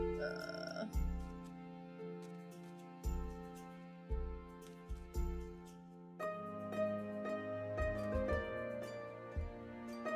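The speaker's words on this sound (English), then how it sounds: "I hate notifications on Discord." Discord notification chimes ring repeatedly, a series of short bright tonal pings spaced every second or so, clear and fairly close, with a denser cluster of layered tones toward the end.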